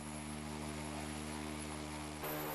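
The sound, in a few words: Korean-developed tilt-rotor smart unmanned aircraft in flight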